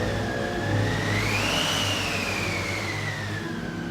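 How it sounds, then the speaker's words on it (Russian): A car engine runs loud and steady, its whine rising and falling as it revs up and pulls away, with no voices over it. "Золушка входит в автомобиль."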